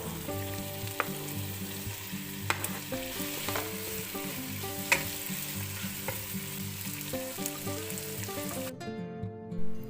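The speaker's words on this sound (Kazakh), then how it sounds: "Қазанымызға май құйып, оны қыздырып, алдымен пиязымызды, одан кейін қызанақ және болгар бұрышын қуырып аламыз." Onion, tomato, bell pepper and garlic fry in hot oil in a cauldron-style pot, giving a loud steady sizzle with occasional stirring clinks and no talking.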